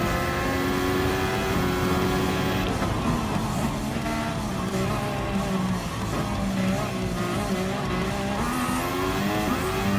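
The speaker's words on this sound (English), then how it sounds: "There's the last 2 F1 cars." F1 race cars in Gran Turismo Sport, engines screaming loudly and continuously with shifting pitch, tire squeal and skidding mixed in, no talking.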